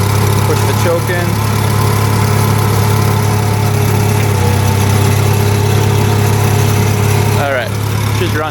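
A 1970s tractor engine idles just after starting, a loud, steady low chugging rumble with mechanical vibration running the whole time, while someone speaks briefly over it.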